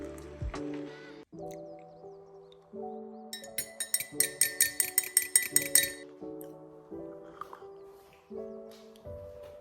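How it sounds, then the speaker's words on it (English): A spoon clinks rapidly and repeatedly against a cup while tea is made, about a dozen bright taps in quick rhythm over steady background music. "so I think it's about time we go and make a cup of tea"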